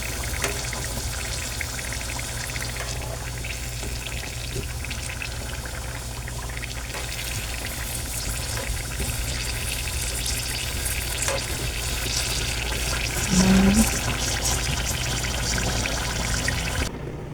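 Banana cue frying in sugar gives a steady, close sizzle and bubbling that runs throughout, with occasional stirring and scraping noises and no talking.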